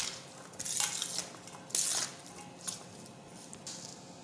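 Spoon stirring and mixing chana chaat in a dish, with soft wet squishing and light clinks of metal against the bowl coming in irregular bursts, close and fairly quiet.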